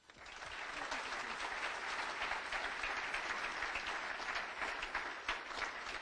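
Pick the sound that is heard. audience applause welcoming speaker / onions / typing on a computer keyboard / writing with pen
audience applause welcoming speaker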